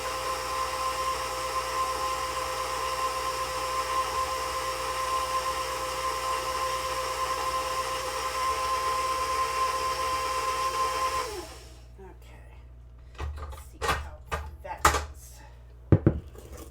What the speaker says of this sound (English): My loud ass mixer.